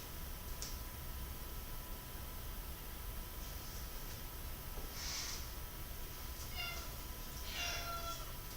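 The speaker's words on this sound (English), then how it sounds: "My cat is anxious to go out" A house cat meows a few short, thin calls at moderate distance, wanting to be let outside, heard over a steady hiss of room noise with no talking.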